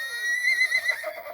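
FurReal Friends Butterscotch, a Hasbro toy pony, lets out a single drawn-out electronic neigh with a wavering whinny, fairly close and clear with no talk over it.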